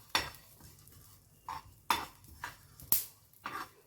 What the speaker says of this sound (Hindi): इसको हमने इस तरह से ड्राई रोस्ट करना है।